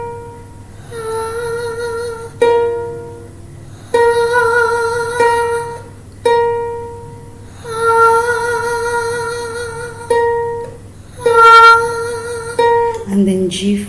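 A plucked C3 note rings out repeatedly, each attack followed by a sustained harmonic tone that slowly fades, played close and clear over a low steady hum with several separate plucks in sequence.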